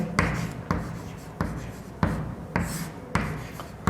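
Chalk or marker writing on a board during a class 10 maths lesson, coming as regular strokes about every half second, each one a short scraping tap, moderately faint and close.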